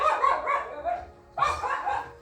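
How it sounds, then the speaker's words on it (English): A dog barks in two bursts of yappy, whining barks, close and moderately loud, separated by a short pause and sounding partly muffled. "Sorry, I had to close my door because my dog was barking."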